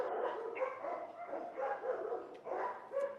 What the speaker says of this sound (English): there's so much barking in here, man